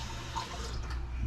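Water pours into a big cup in a steady, faint trickle with light splashing, close by and quiet against a low background hum. No voices.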